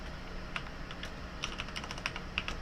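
Keys on a computer keyboard are tapped in short irregular bursts, light clicks at close range over a soft steady background hum, with no voice.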